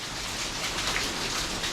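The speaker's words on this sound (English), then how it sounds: "we're getting a proper like winter tropical storm" Heavy rain during a winter tropical storm beside a koi pond, a dense, steady hiss of downpour drumming on a cover close by, with no voices.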